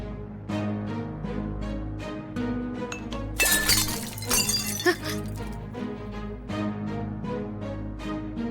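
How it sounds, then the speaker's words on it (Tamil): A glass object falls to the floor and shatters in a burst of crashing, tinkling fragments midway, set against a rhythmic dramatic music backing that continues before and after. "அதிசய நெல்லிக்கனிய மாறி சாப்பிட ஆரம்பிக்கும் பொழுது அபசகுணம் மாதிரில இது கீழே விழுந்து உடைஞ்சு போச்சு"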